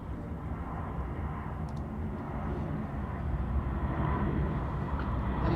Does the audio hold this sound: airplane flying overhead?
yes